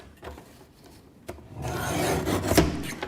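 A blade sliding across card stock while cutting a piece for a handmade Christmas card, a short dry rasp that swells into a louder, sustained scrape, close and alone.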